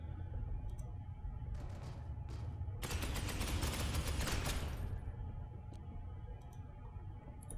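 Gunfire rattles in the Space Hulk Ascension video game: a few short bursts, then a sustained crackling volley of about two seconds, followed by scattered faint clicks over a low background hum.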